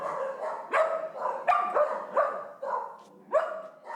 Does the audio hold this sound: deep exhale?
no